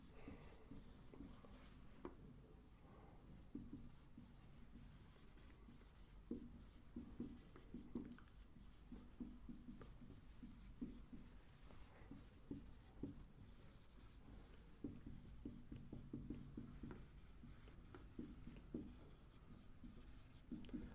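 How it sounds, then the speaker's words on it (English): Pen or pencil scratching steadily across paper while a geometry construction is written out and an angle bisector drawn, close and continuous with small taps and strokes, no talking. "So draw the bisector of angle A and let it meet BC at point D."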